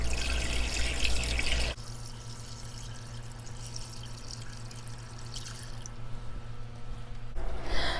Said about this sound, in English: when I'm filling the tank back up, I do just put my hand in so that the water can go on that